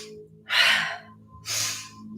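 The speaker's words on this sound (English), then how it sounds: "Powerful breathing." Two forceful yoga breaths during a vinyasa flow, each a loud airy rush lasting about half a second, close to the microphone with short quiet pauses between.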